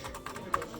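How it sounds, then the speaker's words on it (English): Keys clack on a very clicky Apple Lisa 2 keyboard, a quick run of several sharp close taps in an uneven rhythm, quiet overall with no speech. "This Apple Lisa 2 has an incredibly clicky keyboard."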